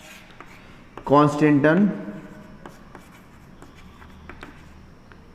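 Writing on a board, with soft scratchy strokes going on faintly under a man's speech in Hindi, which is loudest in a short burst near the start.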